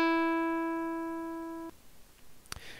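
A single synthesized plucked guitar E note played with SoX play in a Linux shell rings with clear harmonics, decays gently, and stops abruptly after about 1.7 seconds, followed by a faint click and quiet background.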